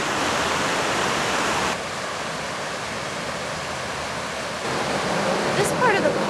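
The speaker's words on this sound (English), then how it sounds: "ledges of sandstone stick out and the water cascades over them" Steady broadband rush of a waterfall spilling over sandstone ledges in a river park, constant and fairly close, with a brief quieter patch midway and no one speaking.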